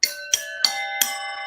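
Four bright metallic bell strikes ring out in quick succession, each with a sharp attack and a lingering shimmering tone, close and clear.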